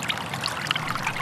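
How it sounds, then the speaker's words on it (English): Water trickles steadily through a small creek in the Skagit Valley lowlands, a soft continuous bubbling and dribbling close by, with no voices. "A little stream called Starboard Creek meanders through the lowlands of the Skagit Valley"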